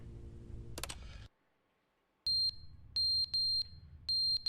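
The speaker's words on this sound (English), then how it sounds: "See? Fire alarm goes off." A fire alarm goes off in the video game The Stanley Parable after a moment of silence, with loud, high electronic beeps repeating in evenly spaced bursts.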